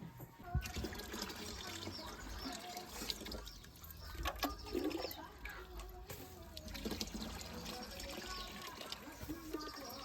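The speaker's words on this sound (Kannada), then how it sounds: "ನಾವು ಈಗ ಸಂಪ್ರದಾಯ ಪ್ರಕಾರ ಎಳ್ಳನ್ನು ಬಿಸಿನೀರಲ್ಲಿ ಹಾಕ್ಯಂದು ಸ್ನಾನ" Hot water is poured and splashes into a bath vessel with sesame seeds added, a busy irregular trickle and gurgle with clinks and knocks close by, fairly quiet overall, with faint voices underneath.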